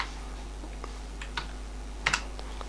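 Sparse keystrokes on a computer keyboard as an Excel IF formula is entered, a few light taps spread out with a quick double click near the end, close and quiet over a low hum.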